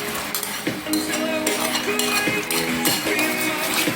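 Fresh garlic stirred in a pan alongside butter and shrimp, with a steady soft sizzle under repeated metallic clinks and scrapes of a utensil against the cookware at a close distance.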